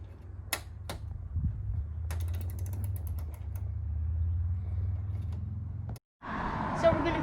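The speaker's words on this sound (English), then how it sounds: "I need to screw these out." Screws are turned out of a 2-cycle engine by hand, giving a few clicks, a ratcheting creak and low mechanical rumble at close range, followed by a short silence and a brief louder scrape.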